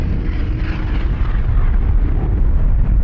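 A deep, sustained rumbling roar stands in for a supernova explosion, a dense low-heavy wash that holds steady and loud for the whole stretch without distinct bursts.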